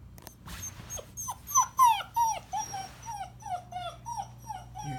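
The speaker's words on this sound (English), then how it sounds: "He makes little baby Dane sounds." A Great Dane puppy whimpers and whines close by in a pet-friendly hotel room, a run of high, wavering cries that rise in pitch and then fall away.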